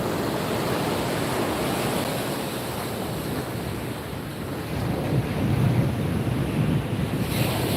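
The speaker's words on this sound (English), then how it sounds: "We are at the Atlantic Ocean" Atlantic Ocean surf breaks on the beach at Ocean City, Maryland, a steady loud roar of waves with heavy wind buffeting the microphone and a swell of surf near the end.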